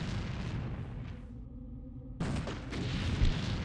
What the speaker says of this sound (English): The machine guns aren't super amazing at doing this job, but explosive rounds work wonderfully.